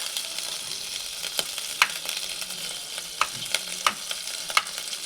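Butter melting in a pan on the stove for a tempering, giving a soft steady hiss broken by scattered sharp crackles and pops, with no voices.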